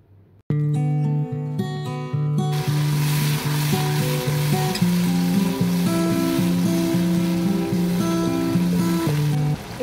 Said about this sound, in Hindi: प्याज हमारा हो गया ब्राउन, अब हम इसमें ऐड करेंगे 1/2 कप पानी